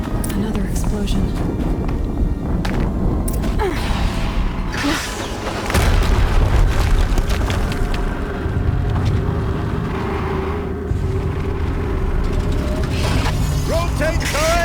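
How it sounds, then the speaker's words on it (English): Heavy explosions and deep booms from the video game Horizon Zero Dawn rumble under continuous mechanical clanking and whirring, with a louder blast surge midway, while a voice talks over the game sound. "Another explosion."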